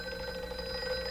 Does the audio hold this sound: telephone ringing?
yes